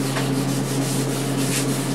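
Finer grit sandpaper rubs back and forth on a Martin D-28 guitar fretboard during a refret, a continuous close scratchy rasp with a steady hum beneath and no talking.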